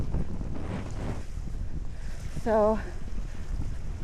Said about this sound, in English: don't know if I'll be able to hear me over the wind